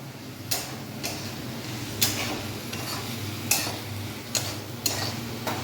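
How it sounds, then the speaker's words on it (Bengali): Bathua greens being stirred and cooked in a pan, with a soft constant frying hiss beneath sharp periodic scraping knocks of a utensil against the pan about once every second, close and moderately loud with no talking. "আমি রান্না করছি বেতো শাক।"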